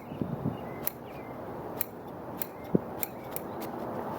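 Shears snipping through the roots of a larch bonsai being repotted, a handful of sharp, separate clicks spaced irregularly over a quiet room, with one louder close cut.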